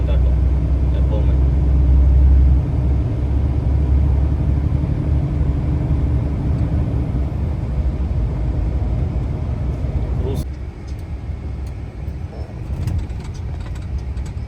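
A car drives through a road tunnel in Italy, a loud steady low rumble of engine and tyres filling the enclosed space. It eases off slightly near the end, with faint clicks over the drone.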